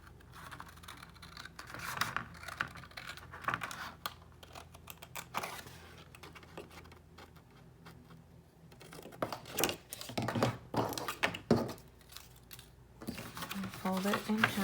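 Scissors snip through cardstock paper scraps while shaping a journal insert folder, giving several short crisp cuts and crinkles close by, mixed with handling noise and a speaking voice between the cuts.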